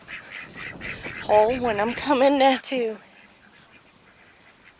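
Several ducks quack in loud, rapid bursts close by outdoors, a busy run of nasal calls in the middle, while someone speaks over them.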